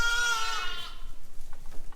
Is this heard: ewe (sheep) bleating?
yes